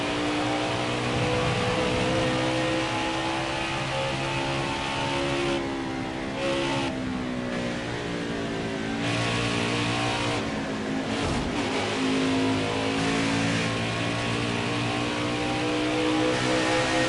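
NASCAR Xfinity Series race car engines roaring at Phoenix Raceway, a dense, continuous high-revving drone of several cars together, pitch sweeping up and down as the field passes, loud with no pauses.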